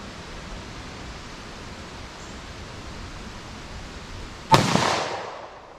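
A single sharp gunshot from a .327 Federal Magnum pistol, fired at a target 75 yards away, cracks out late over a steady outdoor hiss and leaves a brief decaying echo.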